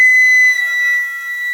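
On flute, a high B is held with the thumb on the B flat key, producing a steady, thin, whistle-like tone that sounds slightly flat and wavers a little partway through.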